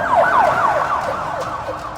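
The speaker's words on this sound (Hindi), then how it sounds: "हाय हाय करते सायरन और सिर पर नाचती लाल और नीली पीली बत्तियां।" A vehicle convoy with flashing red, blue and yellow lights sounds its sirens. Loud wailing tones sweep up and down again and again over traffic rumble, with no voices.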